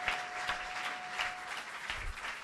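A church congregation applauds for Jesus at a French-language service, steady scattered clapping from a crowd that carries on evenly throughout.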